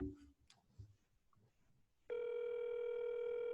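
A phone call rings out on speakerphone: a few faint clicks and rustles, then a steady, loud electronic tone starts abruptly and holds without a break.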